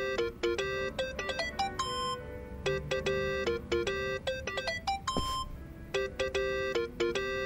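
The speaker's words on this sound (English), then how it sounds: "think that's your phone." A phone ringtone from the video game Yakuza: Like A Dragon plays a repeating series of bright electronic melodic tones, clear and continuous, with a brief dull thud partway through.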